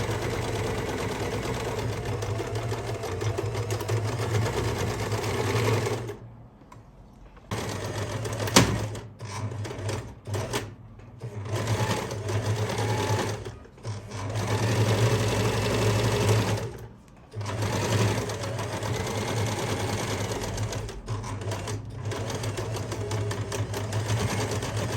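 A sewing machine stitches the shoulder seam of a chapan, running in long loud bursts of rapid mechanical whirring with several brief pauses between runs.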